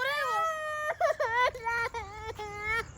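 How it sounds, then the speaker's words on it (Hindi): A child crying at night, close and loud, with a long rising wail followed by a series of choppy, whimpering sobs that break and resume. "बच्चा रो रहा है।"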